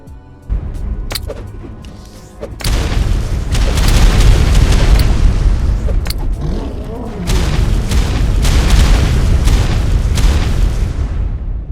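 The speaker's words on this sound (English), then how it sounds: "I also found a handful of cluster bombs, and with no real use for them, I unleashed their power on a lone saber-tooth." Cluster bombs in the Ark survival game set in Scorched Earth burst in a rapid chain of heavy booms, loud and rumbling for several seconds after a few sharp game clicks.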